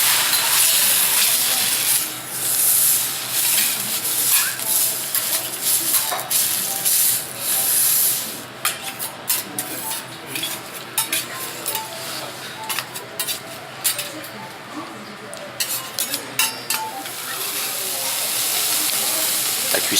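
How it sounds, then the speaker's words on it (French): Wagyu beef sizzles on a teppanyaki grill in Tokyo, a continuous close hiss and spatter with sharp crackles and metallic taps, the frying dipping briefly midway before rising again. "La cuisson du wagyu."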